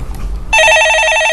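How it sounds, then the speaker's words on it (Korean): A loud electronic telephone bell starts half a second in after a low murmur, ringing steadily and close for an incoming call during a live phone-in broadcast. "짠 듯이 곧장 전화가 오네요."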